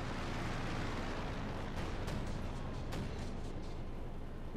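A flak gun fires in the video game Company of Heroes 2, with a couple of sharp reports standing out from a constant, roaring battle din.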